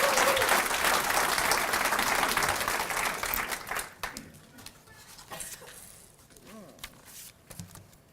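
An audience at a 2019 nursing pinning ceremony welcomes a student speaker with loud, dense applause that fills the hall for a few seconds, then thins into scattered claps and fades to room noise.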